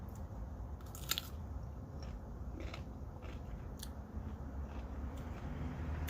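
Crisp bites and crunchy chewing of fresh garden vegetables up close, a few sharp snaps over steady soft mastication, no talking.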